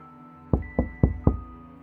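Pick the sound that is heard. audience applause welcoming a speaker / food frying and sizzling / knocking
knocking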